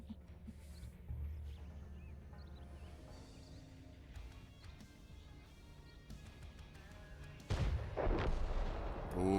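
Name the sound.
high-explosive tank shot in a video game, Calamity tournament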